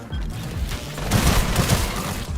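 Gunfire in the shooter game Sulfur: a steady rattle of loud shots with rumbling booms, growing denser and heavier in the second half.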